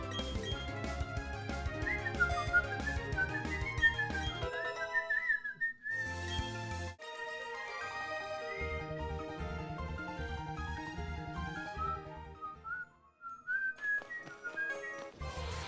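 A person whistles a sliding, looping melody over a video game soundtrack's rhythmic music, the tune rising and falling in clear phrases with brief pauses.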